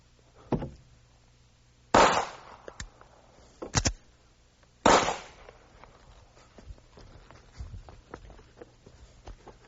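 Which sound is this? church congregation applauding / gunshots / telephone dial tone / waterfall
gunshots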